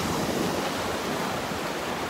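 Small waves breaking along the edge of a shallow sandbar on a calm morning beach in North Naples, Florida, heard as a continuous soft wash of surf with some wind rumble and no voices.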